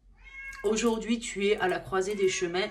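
Long, plaintive yowls from a cat in heat rise and fall behind someone speaking French nearby.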